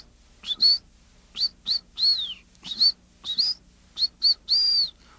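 A trained pet canary sings inside a cloth-covered cage, its bright, high trills and chirps coming in about eight short bursts with brief pauses between them. The bird is close and clear, with no voices and only a faint hum underneath.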